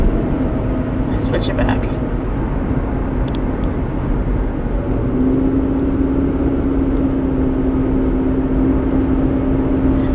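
A 2010 Toyota RAV4 while driving gives a constant loud road and engine rumble, and a steady droning vibration tone joins partway through. A person speaks briefly.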